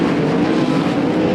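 Sprint cars racing on the Attica speedway during the Ohio Sprint Speedweek opener, a loud, steady engine roar filling the whole moment without a break.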